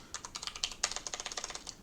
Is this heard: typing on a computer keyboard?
yes